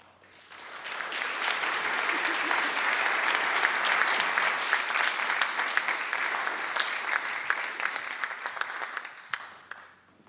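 Sustained audience applause welcoming a speaker at an evening talk, a dense wash of many hands clapping that swells in, holds steady for several seconds and then thins out with a few last claps.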